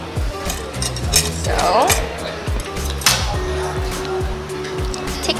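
A metal fork and spoon clink and scrape against a plate while prawn shells are pried off at a Nyonya food meal in Malacca, with light scattered chinks under restaurant chatter and a brief spoken word.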